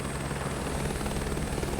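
A helicopter flying over mountain foothills on the Lahaul and Spiti loop gives off a steady, loud rotor and engine roar with fast, even blade chop, heard throughout with no talking.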